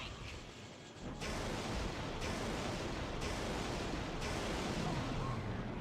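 Gunfire in the PS2 video game Ghost Rider, a dense, loud barrage of booming shots with sharp blasts recurring about once a second under a continuous roar, with no talking.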